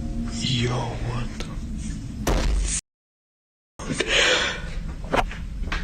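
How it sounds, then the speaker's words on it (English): A door in a house bumps and thuds twice, a few seconds apart, one knock landing sharply like a slam, amid hushed, whispery room noise and a brief dead-silent gap. "And this door has been like opening and closing"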